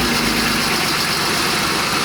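BMW E46 with a swapped-in 3.0 engine running at idle, a steady, even drone heard up close with no talking.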